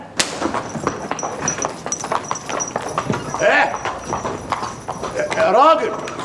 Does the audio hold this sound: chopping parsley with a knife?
no